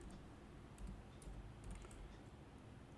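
Quiet, soft keystrokes on a computer keyboard while Python code is typed, an irregular light tapping over a faint hum.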